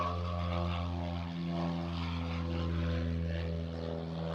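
A propeller plane drones overhead, a steady loud engine hum with strong low harmonics holding through the whole stretch, no voices over it.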